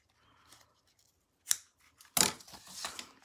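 Tearing tape is cut with scissors in a few short, crisp snips that stand close and clear against near silence.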